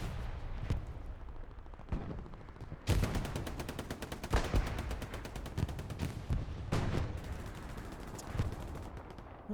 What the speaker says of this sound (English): Soviet Viking also laying down machine gun fire toward Gil